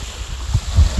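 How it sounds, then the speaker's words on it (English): Water lapping beside a boat on a calm day, a loud, close, low rumbling slosh with soft wind buffeting the microphone. "You can hear the water."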